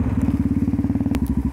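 A motorcycle pounds along a rough, rutted dirt track, its engine thumping in a fast, even rhythm close up, with a sharp clatter near the end.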